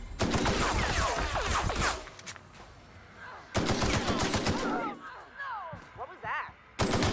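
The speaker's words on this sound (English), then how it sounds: "Me! Shooting you!" Bursts of gunfire in The Outer Worlds video game, loud rapid volleys opening and returning mid-clip, with shorter shots and whooshing effects between them.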